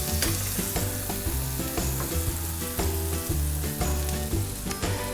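Mushrooms sizzle and fry in a hot pan for vegetarian chili, a loud close hiss with occasional scraping and stirring clatter, no speech.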